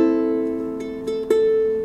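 Single strummed guitar chord, a one-finger simplified shape fretted on the G string at the second fret, ringing out and decaying with a couple of light re-strums partway through, quiet and alone.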